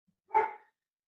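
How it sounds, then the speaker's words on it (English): A single sharp bark from an excitable house dog, close and clear against near silence. "My dogs are very excitable and they want to tell everyone that yes, we are in the house and the house is safe."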